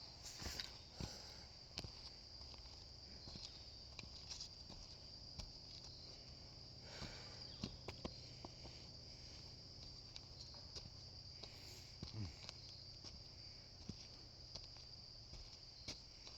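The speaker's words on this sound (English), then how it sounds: "The bugs are not letting up. The bugs are crazy." Insects chirping at night at a historic Civil War site, a faint, steady high-pitched drone of crickets with occasional soft rustles and footsteps nearby.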